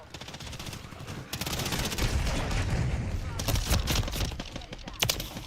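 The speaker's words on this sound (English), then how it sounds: "Hostiles launched a cruise missile." A cruise missile strike in the video game Call of Duty Modern Warfare III, a loud sustained rumble of blasts mixed with dense automatic gunfire and scattered sharp cracks, with voice callouts heard amid the din.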